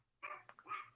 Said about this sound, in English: Is that your dog, Carl?